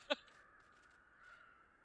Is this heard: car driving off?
no